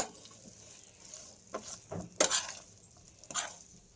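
Green chilies being stirred in warm, not very hot oil in a pan, giving a few soft scraping and clinking strokes spaced apart, with a faint sizzle beneath. The sounds are quiet and close.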